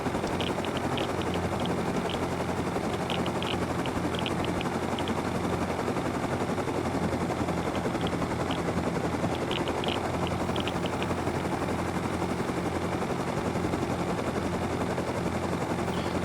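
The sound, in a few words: helicopter taking off in the video game Rust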